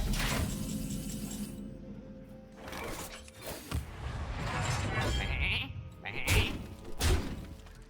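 Game sheep in Hearthstone bleat over busy card-game sound effects and clunks, several wavering bleats standing out near the end, fairly loud and close, with no talk.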